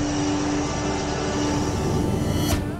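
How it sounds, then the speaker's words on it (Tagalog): A Black Hawk helicopter drones loudly and steadily nearby, a dense rotor-and-engine roar with a constant low hum running throughout, no voices over it. "Sasakay kami nitong Black Hawk helicopter"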